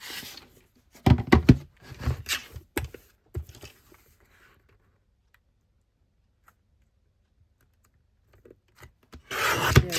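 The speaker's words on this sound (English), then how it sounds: "I need to cut off a little bit from the top as well and a little bit from the side." Paper trimmed for a file folder craft project, with bursts of close scraping, snipping and rustling, then a long quiet pause before more rough rubbing cuts resume at the end.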